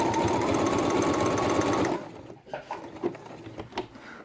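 A sewing machine runs at speed in a tight zigzag stitch over a cord on a felt quiet book, a loud steady mechanical whir for about two seconds that stops, leaving faint clicks and handling noises.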